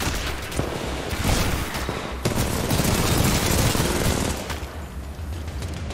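Rapid gunfire in Titanfall 2 crackles in dense bursts, loud and near, with sharp individual shots standing out amid the continuous barrage.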